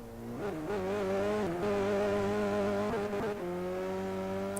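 A car engine drones steadily and revs up and down through gear changes, loud and close, with no voices over it.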